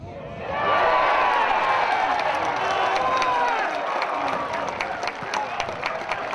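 A football crowd cheers a home goal for Auckland City against rivals Waitakere United, a broad roar swelling quickly then holding steady with scattered claps and shouts, heard from across a stadium.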